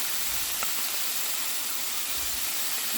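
Seasoned meat with spices sizzling in a pan for carnitas in chipotle sauce, a steady, even hiss with no pauses.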